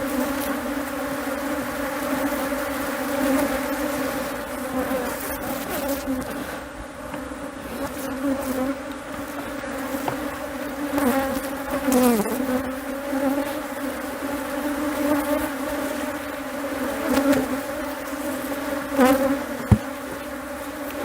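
A strong honeybee colony at an open hive buzzes in a dense, continuous drone, with individual bees flying past the listener close up, steady and loud throughout with no speech.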